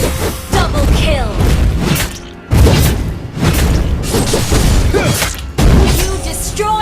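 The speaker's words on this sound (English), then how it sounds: "You destroyed a turret!" A turret is destroyed in Mobile Legends: Bang Bang with repeated loud booming crashes and shattering impacts, layered over continuous battle effects and game announcer voices.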